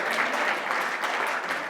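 An audience at a Restoring NSW gathering on the Central Coast, Australia, cheers and applauds in a steady, dense wash of clapping and voices, loud and continuous throughout.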